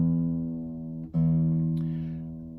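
A guitar's low E string is plucked during tuning, ringing as a loud, sustained note that is struck again about halfway through and then slowly fades.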